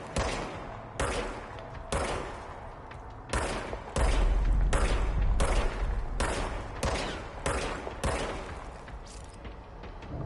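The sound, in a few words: service weapon gunfire in the video game Control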